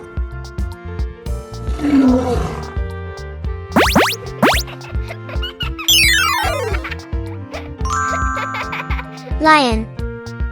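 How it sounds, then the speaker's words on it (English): A lion's roar rises briefly amid busy children's-style music and playful electronic effects, loud and up close rather than distant. "Lion."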